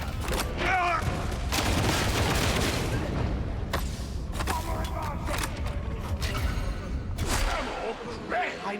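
A volley of video game gunfire, sharp bursts of rapid shots and heavy booms in clusters across the stretch, with voices talking over the battle noise.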